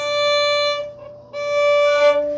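A sustained bowed violin note, D played in third position on the A string, rings out, fades briefly, then the same pitch is bowed again, clear and close.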